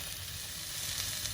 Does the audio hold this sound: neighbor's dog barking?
no